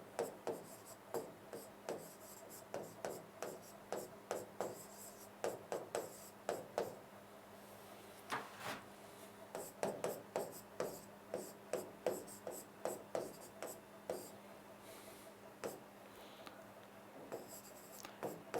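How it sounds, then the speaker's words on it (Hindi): Marker strokes on a board as a question is written out, a steady run of short scratchy squeaks and rubs repeating close by for the whole stretch, with no talking. "तब तक मैं एक क्वेश्चन आपके सामने और लिख देता हूं"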